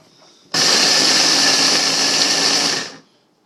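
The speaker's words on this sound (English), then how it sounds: "I've actually never used this blender to do this before, so I don't know how well this is going to work." A Ninja blender grinds oats into powder in one steady, loud, high-pitched whir lasting about two and a half seconds, starting abruptly and cutting off cleanly, with quiet before and after.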